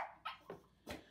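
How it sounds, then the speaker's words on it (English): Phoebe the dog gives a few quick, soft barks and yips mixed with a high whimper, close by but quiet, with no voices. "I think my dog wants to go out."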